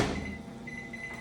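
A microwave oven hums steadily after a brief opening clunk, with a thin high whine running through the drone, close and fairly loud, no talking.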